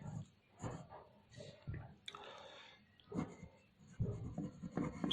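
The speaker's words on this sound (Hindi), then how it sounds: "इसको एक बार बच्चों मैं यहां पर लिख देता हूं" A teacher writes numbers on a classroom board in soft, scratchy strokes and taps, quiet and intermittent, with faint room sounds between them.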